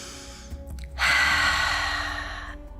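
Deep exhale during a prenatal yoga session, one long, steady breath of airy hiss lasting over a second, close and fairly loud, preceded by softer quick intakes.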